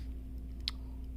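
A single sharp mouse click lands about midway through, faint and brief over a steady electrical hum, with no talking.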